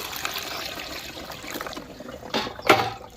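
Water is poured into a container and strained through cloth for a homemade farm spray mixture, about 10 liters; a soft continuous trickle and splash, rising to brief louder pours near the end, close by with no talk.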